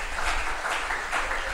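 A church congregation breaks into loud applause during a communion service, dense continuous clapping from a large crowd filling the room.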